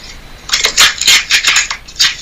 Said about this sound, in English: that is the sound of somebody destroying their Nigerian passport